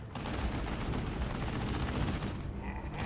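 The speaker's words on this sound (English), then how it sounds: "Commando's only firing a couple of guns for whatever reason" Ork Kommandos open fire in a Dawn of War 2: Retribution battle, a dense continuous roar of gunfire and blasts holding loud and steady for about three seconds before easing slightly.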